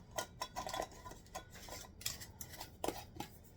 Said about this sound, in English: Put your lids on and your rings.